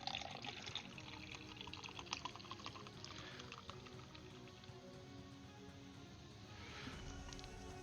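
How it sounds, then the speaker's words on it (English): A drink being poured, a steady liquid stream splashing for several seconds at close range, with no talk over it. "I'm going to pour my drink real quick."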